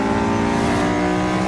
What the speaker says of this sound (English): Lamborghini.